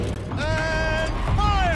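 A turret rotating in the video game Horizon Zero Dawn, making a short, close mechanical whirring and creaking with rising and falling tonal sweeps, lasting under two seconds.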